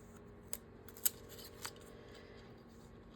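Scissors trimming the paper borders of pages, a few quiet, separate snips spaced about half a second apart against a faint, steady room hum, with no talking.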